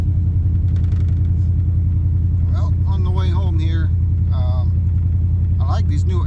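A plow truck's engine rumbles steadily from inside the cab while driving, a low continuous drone under someone talking.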